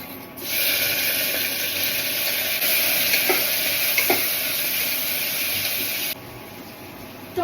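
Mustard seeds, cumin, onion, garlic, ginger and green chilli fry in hot oil with a steady, bright sizzle that holds for several seconds before dropping off sharply. There are a couple of faint clinks from stirring.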